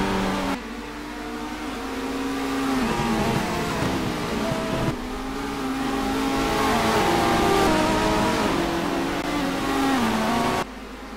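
BTCC touring cars racing at Knockhill, Scotland, engines revving and shifting as cars pass close, a loud continuous roar with rising and falling pitch and gear changes.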